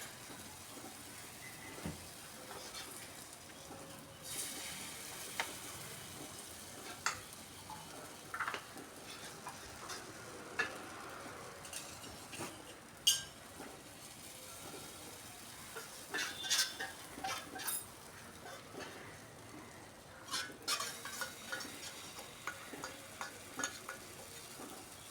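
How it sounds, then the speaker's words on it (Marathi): Small pancakes sizzle softly in ghee on a pan, a faint steady frying hiss with scattered ticks, scrapes and clinks of a utensil against the pan throughout. "तूप लावल्यानंतर छोटे छोटे असे पॅनकेक्स टाकून द्या"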